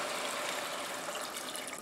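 Tap water gushes steadily into a cooking pot to cover pork for carnitas, a continuous close, bright pouring rush with no pauses.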